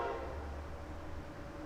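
A train rumbles past outdoors with a low steady roar and a faint horn-like tone near the start, heard alone without talking.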